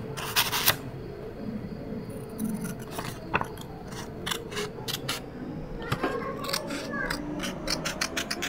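Scissors snip through a sheet of paper several times, dividing it into ten equal strips, with light paper handling and scraping between the cuts. The sounds are close and fairly quiet.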